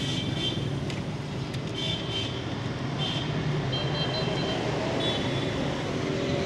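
From inside a Leguna, a small local passenger vehicle riding through Islamabad in Pakistan, a steady engine and road rumble runs throughout, with faint traffic noise and a brief distant horn toot.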